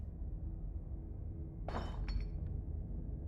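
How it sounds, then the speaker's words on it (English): Glass breaks at a distance inside a clinic in the Scarlet Hollow video game, one faint shattering crash followed by a few small tinkling clinks over a quiet low rumble. "The sound of distant breaking glass cuts through the silence of the clinic outside the safe room."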